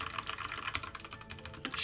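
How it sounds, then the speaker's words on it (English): Rapid typing on a Redragon mechanical keyboard with well-tuned stabilizers produces a close, continuous clatter of crisp keystrokes at an even, quick pace, heard alone. "This sounds surprisingly good. This might be my favorite Redragon keyboard to date."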